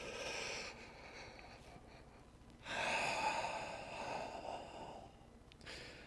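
Slow, deep breaths during a yoga session, faint and close, with a long airy inhale followed by a softer exhale and no speech.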